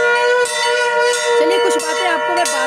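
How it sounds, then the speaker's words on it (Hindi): A temple bell rings with repeated metallic strikes over a sustained, steady ringing tone, loud and close, while a voice talks over it. "ये जो घंटा होता है ना, इसकी ध्वनि मतलब बहुत ही पॉजिटिव एनर्जी लाती है"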